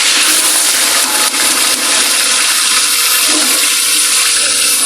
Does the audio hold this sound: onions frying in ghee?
yes